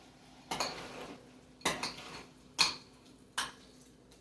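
A spoon knocks against a pot while stirring ricotta and meat sauce, giving four distinct metallic clinks at uneven intervals, close and alone with no talking.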